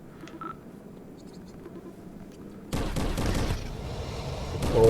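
Quiet background in the Crashland VR game gives way to a sudden loud burst of gunfire at creatures, continuing as rough, sustained shooting to the end.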